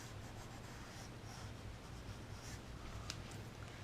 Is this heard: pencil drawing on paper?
yes